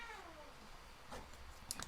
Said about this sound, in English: That's Dozer, the cat, who is super offended that it's so cold out